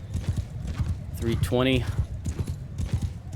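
A horse galloping in Mount & Blade II Bannerlord, rapid hoofbeats drumming steadily under a voice, with a short, bright neigh rising in the middle.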